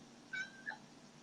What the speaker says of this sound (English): Okay, the cat.